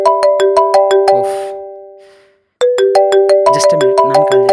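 A phone ringtone plays a bright, chiming melody of repeated electronic notes, loud and close, fading out briefly before starting again at full volume, with no talking over it.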